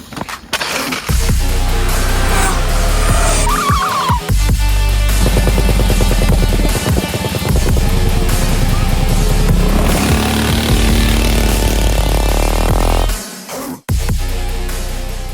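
A Kuberg Freerider electric off-road bike being ridden, a loud continuous motor whine with rough rumbling and rattling from the terrain, rising and falling with speed and breaking off briefly near the end.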